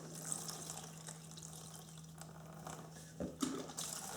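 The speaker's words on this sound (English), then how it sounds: "So I'll start by just pouring some gas" Gasoline trickling from a can into a tub, a faint, steady splashing pour with a slightly louder gush near the end, no talk.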